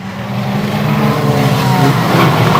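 Banger racing cars at Bovingdon roar loudly and close as one car is spun round by another, with engines revving hard in a steady, rising din.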